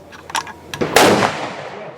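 A big game rifle fires one sharp, loud shot at a shooting range event, a booming crack that rings out and decays over about a second, with faint clicks just before it.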